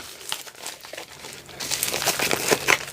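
Plastic packaging from an AliExpress parcel crinkles and rustles as it is opened, with soft handling at first that turns into louder, denser crinkling toward the end, close up and with no one speaking.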